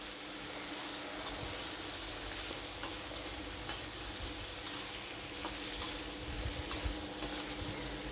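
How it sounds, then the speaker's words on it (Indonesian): Fatty pork belly sizzles loudly in a pan as it is stirred with spices, a dense, steady crackling hiss close up, broken by soft scraping stirs now and then. "Dan ini kita kolah-kaleh atau kita aduk agar tercampur dengan bumbunya."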